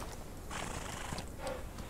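Horse from the Old West video game Outlaws of the Old West, a close whinny and neigh over steady hoof clip-clop, brief and loud against a constant wash of game ambience with no talking.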